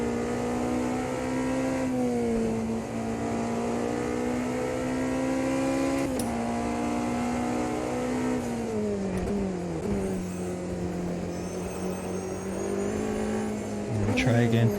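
A Porsche 963 LMDh race car in the AMS2 racing game drives a lap, its engine droning steadily with shifting revs and brief gear-change dips throughout, while a person talks over it.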